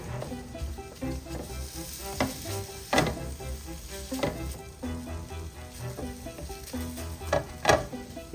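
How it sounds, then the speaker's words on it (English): Bacon sizzles and fries in a hot skillet, browning for a chili recipe, with a steady dense crackle and occasional sharper pops and stirring scrapes close by. "Now you want to brown the bacon."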